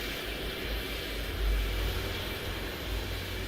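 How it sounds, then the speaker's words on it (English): Airplane passing overhead near an airport in Euro Truck Simulator 2, a steady, broad engine roar that swells slightly in the middle, with no talk. "We have a plane right here."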